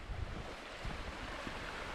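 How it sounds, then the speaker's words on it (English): A trailside river near Metcalfe Rock rushes along in a steady broadband wash, faint and constant with some wind buffeting the microphone, no voices present. "here's the river that we're just about to cross"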